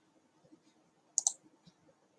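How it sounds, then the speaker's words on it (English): Two quick, close mouse clicks in a row break an otherwise quiet room, with a faint low murmur before and after, while a branded profile picture is built in Canva. "Now we click done"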